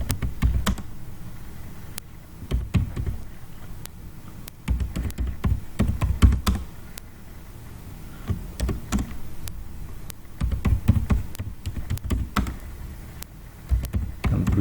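Rapid typing on a computer keyboard in bursts of clicky keystrokes separated by short pauses, close and fairly clear, with no speech over it.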